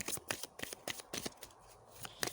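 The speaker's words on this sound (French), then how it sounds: "Je vais tirer 3 cartes là pour avoir des compléments" Oracle cards being drawn and handled during a daily guidance reading: quick, crisp flicking and slapping of card stock in a rapid irregular rhythm, close and fairly quiet.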